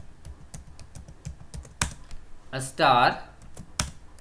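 Fingers tap out an SQL command on a computer keyboard in quick irregular clicks, close and crisp, while someone speaks briefly in Hindi partway through.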